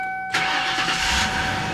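A 1994 Lincoln Town Car that runs rich from a faulty mass airflow sensor fires up with one quick crank, after a steady electronic whine. Its engine then settles at once into a smooth, close idle with no talking.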